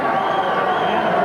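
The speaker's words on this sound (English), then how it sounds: "you can hear the crowd and appreciation for the great basketball that the boys that just went out have been playing" A crowd at a state tournament championship basketball game cheers and roars in appreciation, producing a loud, dense wash of voices with no gaps.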